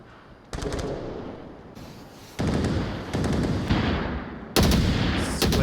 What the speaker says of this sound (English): Squid just firing into the smoke